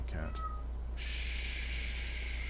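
Pet cat Ezio lets out a short meow at the start, close to the microphone over a steady electrical hum. A long, even high-pitched whine follows and continues to the end.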